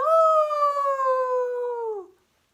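A single long wolf howl, loud and close, holding a steady tone before sliding downward and fading out, with no other sound around it.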